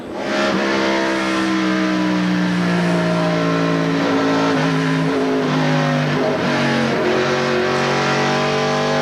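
Loud, sustained roar of NASCAR stock car engines during the 1995 TranSouth 400 at Darlington, heard from an in-car camera, with steady high revving and shifting engine tones from cars running close together.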